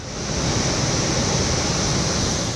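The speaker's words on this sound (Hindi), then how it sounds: "पानी का शोर डराने वाला है।" Swollen Narmada river in flood roaring over a submerged highway bridge, a loud steady rushing wash of floodwater filling the scene without a break.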